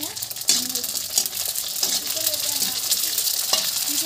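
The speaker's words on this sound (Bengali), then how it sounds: "আর এই যে এখনো ফুচকা ভাজবো।" Fuchka puffs sizzle in hot oil, a steady close frying hiss broken by sharp stirring clacks and scrapes at irregular intervals.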